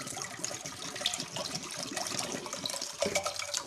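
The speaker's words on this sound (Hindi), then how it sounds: "यहाँ पे हम लोगों ने एक पैन लिया है और इसके अंदर हम लोग पानी डालेंगे।" Water splashes and trickles steadily into a cooking pan in a kitchen, a continuous near pour with small bright splatters, no one talking over it.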